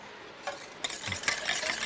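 A crispy egg mixture is stirred in a kitchen with oil heating for frying, giving soft scraping, clinking strokes that grow busier and louder toward the end.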